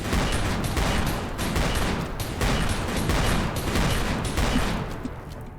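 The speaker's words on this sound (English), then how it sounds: "I think they're being bombarded" Bombardment in a colony-building video game: a rapid fusillade of sharp gunshots crackling in quick succession, loud and continuous, easing off slightly toward the end with no talk over it.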